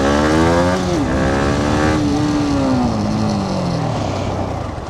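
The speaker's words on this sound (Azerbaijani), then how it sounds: "Arxa tormozu sıxaraq özümü saxlamağa çalışacağım." A motorcycle brakes hard using only the rear brake, its loud nearby engine note sliding steadily downward as the bike slows, with no other sounds over it.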